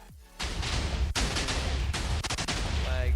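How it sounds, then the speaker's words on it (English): In a video game, a concept cannon fires a one-shot nuke, and the blast comes in as a dense burst of rapid explosive booms and crackling detonations. The volley roars on loudly and keeps going with jagged bursts. "One shot nuke. Here we go."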